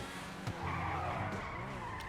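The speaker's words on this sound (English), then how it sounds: "It sounds like a pure, awesome, old Lambo V10" A Pegassi Torero sports car in GTA, voiced like an old Lamborghini V10, screeches its tires in a short skid over a steady engine drone, close and fairly loud.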